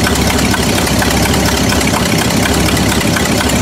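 A Buick engine idling low with a persistent misfire, even after a new coil, gives a loud, steady close-up rumble with an uneven, slightly knocking pulse throughout.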